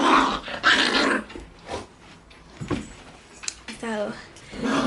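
A puppy named Tiger plays and growls nearby, with yips and short rough vocal bursts scattered among some household noise, and a person speaks partway through.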